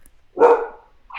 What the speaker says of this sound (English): we apologize to our listeners for the loud dog